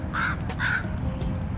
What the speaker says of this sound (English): that loud ass crow that you hear over there